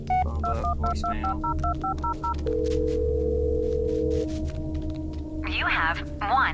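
A phone in the Blair Witch video game dials voicemail: a quick run of touch-tone beeps, then a long steady tone, with game hum underneath and a voice speaking near the end.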